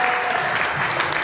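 A church congregation at a conference claps together, a dense, steady burst of applause that fills the short moment at close range.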